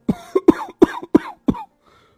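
An old man coughs six times in a quick, rough series, close and fairly loud, then falls quiet.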